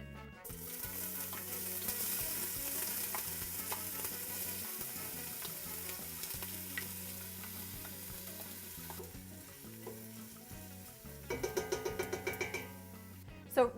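Onions, carrots and garlic with a little thyme sizzle steadily in a soup pot, a continuous close frying hiss with occasional stirring scrapes and clinks near the end.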